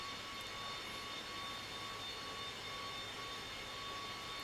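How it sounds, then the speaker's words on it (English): Steady, even jet-engine whine with a constant high tone from an aircraft engine starting up in the X-Plane 11 flight simulator, a faint drone held throughout. "you can hear that other engine starting up"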